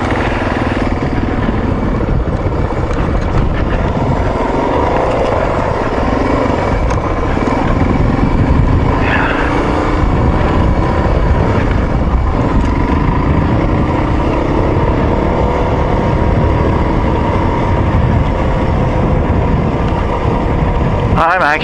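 Motorcycle engine drones steadily and loudly while riding an off-road bike through Pine Valley, with heavy wind rumble throughout and a shifting engine pitch.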